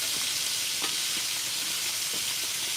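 Hot grease sizzling hard in a pan over a camp stove inside a hot tent, a dense continuous crackle and hiss, close and steady, with faint scraping of stirring underneath.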